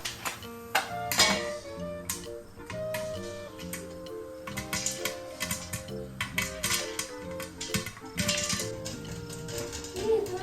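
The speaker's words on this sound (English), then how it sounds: "Cover the lid and let it finish popping." Corn kernels popping in vegetable oil inside a covered pot, a busy stream of sharp pops and clicks ticking at irregular intervals over a sustained tonal background.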